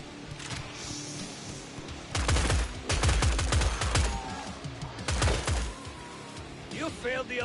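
Automated turret firing in Killing Floor 3 comes as a cluster of dense rapid bursts of gunfire, loud and close, with short pauses between volleys over a steady game background.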